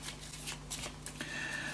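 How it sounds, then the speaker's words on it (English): Playing cards being shuffled for a WWII-themed escape game setup, a short soft riffling flutter with light slaps, close and alone. "we need to shuffle those cards"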